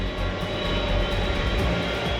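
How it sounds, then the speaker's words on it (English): US Air Force aircraft engines running up at startup, a loud steady roar with a fixed high whine held throughout, nearby and unbroken by voices. "the pilots enter the cockpit, turn the engines on"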